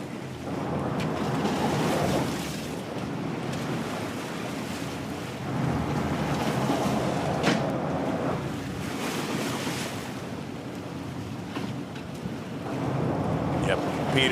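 Ocean waves surge and crash over an offshore sport-fishing boat during a Rhode Island fishing tournament, a loud, continuous wash with rising swells and heavy wind buffeting the microphone.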